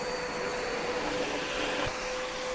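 A SkyVac industrial gutter cleaning vacuum system runs unloaded at a training handover, giving a loud, steady roar with a constant high whine throughout.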